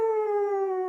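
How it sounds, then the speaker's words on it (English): A wolf howls in one long, clear, sustained note that drifts slightly downward in pitch, steady and fairly loud from start to finish with nothing else around it. "W is for wolf, when the moon is big and bright, he sings a happy howling song."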